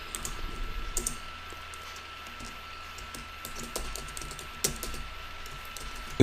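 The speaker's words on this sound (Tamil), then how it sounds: "இதில் வெல்கம்னு டைப் பண்ணிட்டேன்." Keystrokes on a computer keyboard while a welcome heading is typed into a web page, a soft uneven patter of clicks over a steady low hum, with a louder tap near the end.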